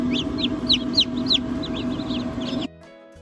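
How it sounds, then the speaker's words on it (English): Newly hatched baby chicks peep in a brooder, a run of bright high chirps over a steady low hum that cuts off abruptly near the end. "All of our cute little baby chicks,"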